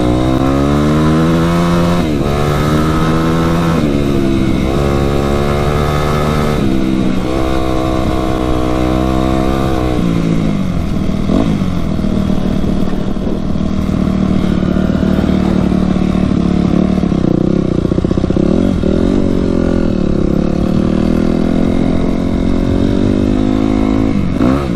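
A Yamaha YZ250F four-stroke dirt bike is ridden hard, with its engine loud and close throughout, revving up and down in repeated climbing pulls, with clatter and steady roar, no voices.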